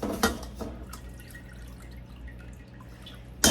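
Homemade turkey bone broth draining in a kitchen, with scattered small drips and splashes over a steady low hum, a few louder plops early on and a sharp knock at the end.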